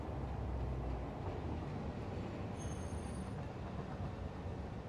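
A train rolls through an enclosed factory in a building video game, a steady low rumble with faint wheel clatter and a brief high squeal, heard alone at a moderate distance.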